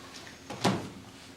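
A single door swung shut in a quiet meeting room, one soft brief thud and rustle near the middle, otherwise near silence.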